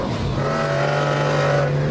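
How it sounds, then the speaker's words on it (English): McLaren F1 supercar with a driver-center cockpit and a 627-horsepower BMW V12 engine, holding a steady, loud engine drone at constant pitch, close and continuous with no talk over it. "Featuring a unique driver-center cockpit, it had a powerful BMW V12 engine that cranked out"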